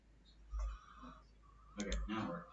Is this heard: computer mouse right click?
yes